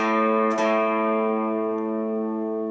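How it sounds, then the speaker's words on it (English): A single down-stroke pluck on a guitar's A string rings out with a bright attack near the start, then sustains and slowly decays with rich overtones. "I'm plucking the A string, down stroke"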